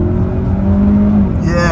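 Kia Sorento SX 2.5T turbo engine accelerating hard, a steady loud engine drone rising through the revs with a brief upward sweep near the end, heard from inside the cabin.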